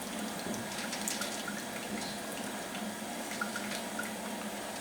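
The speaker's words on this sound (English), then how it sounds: "it's giving me a nice flow of alcohol" Alcohol flowing from a Turbo 500 still into a jug, a soft steady trickle of liquid with faint drips, quiet and continuous.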